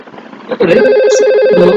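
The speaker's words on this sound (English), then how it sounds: "phone 3001 is ringing" A simulated IP phone ringing in a Cisco Packet Tracer VoIP network, a loud electronic trilling ring that starts after a short muffled lead-in and continues steadily.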